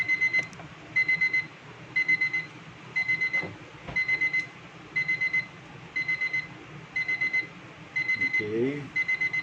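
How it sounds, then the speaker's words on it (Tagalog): A kitchen timer beeps in repeated bursts of rapid high beeps at a steady pace through the whole stretch, fairly loud, with a person talking quietly underneath. "My timer is going off."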